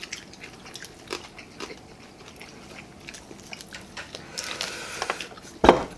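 Someone bites and chews crispy pork head wrapped in lettuce with kimchi, soft crunches and mouth sounds scattered through, building to a louder crisp bite near the end, close and intimate with no talk.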